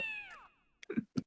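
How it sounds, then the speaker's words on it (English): A cartoon cat meows in a game publisher's logo animation: one long, falling meow up close, then a brief pause and a few short, sharp mews in quick succession, with no talking. "I do like the Japan Supply System logo animation, though. Yeah. The meowing cat."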